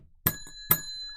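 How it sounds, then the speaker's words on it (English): A hand bell is struck twice in quick succession, each hit a sharp bright ring with a sustained metallic tone decaying between strikes, close and clear with no talking. "I'm going to hit the bell 10 times right now"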